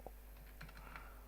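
Keys tapped on a computer keyboard while entering figures into an Excel sales report, a few quiet scattered keystrokes in an otherwise hushed room.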